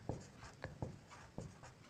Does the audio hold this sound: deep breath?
no